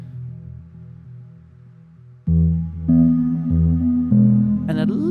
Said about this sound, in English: It's just a simple little instrumental loop that makes heavy use of reverb delay and some sine waves.